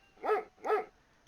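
A dog in the military game ArmA 3 gives two quick barks, fairly faint and slightly distant, with nothing else around them.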